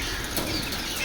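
Pigeons taking off from a beach in Chennai, a burst of wing flapping that stays fairly loud and steady throughout with a dense, noisy rush and no voices.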